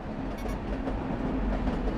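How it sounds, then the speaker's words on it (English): A train in the video game Eden Crafters pulling away and running, giving a steady rumbling rail drone with faint clickety-clack and no pauses, heard alone without talk. "I can press W to start the train, get it up to speed, and I can just get out."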